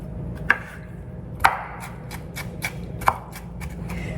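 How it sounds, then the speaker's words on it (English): A knife chops already-sliced pickles on a cutting board for a pasta salad, giving three distinct sharp taps among several softer ones at an irregular pace, close up. "these are already sliced, so I'm just giving a rough chop to them"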